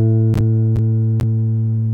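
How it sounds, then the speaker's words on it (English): A guitar's open A string plucked and left to ring, a steady sustained tone with harmonic overtones and no other sound, with a few brief clicks over it. "And so on a guitar, if we hit the A string, it would sound like this."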